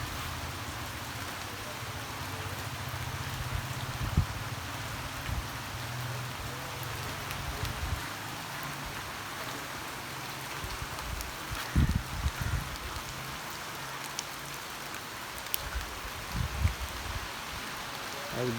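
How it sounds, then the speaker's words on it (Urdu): Steady rain falls, a dense continuous patter on surfaces with occasional louder drops and low rumbling underneath, constant throughout. "آج بارش تو انجوائے کرنے"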